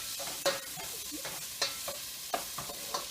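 Chopped onions fry in a pan for a Greek pastitsio, a low steady sizzle broken by periodic scraping stirs and light utensil knocks against the pan, close and moderately loud with no talk.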